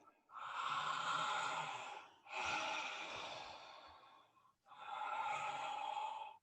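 Three long, deep breaths through a wide open mouth, each a soft airy rush lasting about two seconds with brief pauses between, close and fairly quiet with no talk.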